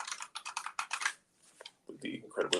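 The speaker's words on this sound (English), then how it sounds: "With the incredibly loud keyboard." A very loud computer keyboard clattering in quick bursts of keystrokes, a brief pause, then more typing mixed with low voices close by.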